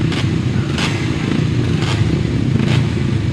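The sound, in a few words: grasstrack solo motorcycles racing from the start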